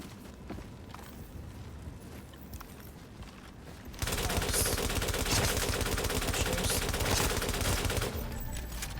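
Gunfire in a PvP survival shooter game: quiet, sparse shots at first, then from about four seconds a loud, sustained burst of rapid automatic fire that keeps going to the end.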